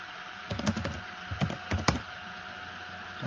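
Keys on a computer keyboard are tapped in short bursts, a few quick clicks clustered together, then a pause, then another small flurry, close and fairly quiet in a still room.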